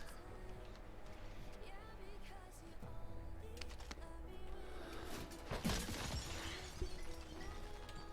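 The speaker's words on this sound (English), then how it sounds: "Is that you smashing No, windows?" Glass windows shattering in a multiplayer shooter video game, a sharp crash of breaking glass rising out of a steady, busy game soundscape near the middle, with scattered smaller impacts after it.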